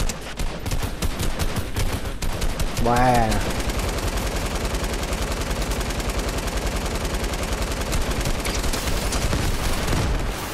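Rapid, continuous automatic gunfire in a video game rattles throughout, with bursts layered over one another and a brief voice speaking over the shooting.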